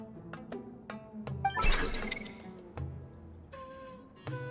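Cats meowing in the video game Genshin Impact, a series of short, clear, close meows, with a burst of shattering noise in the middle and more meows after it, no talk.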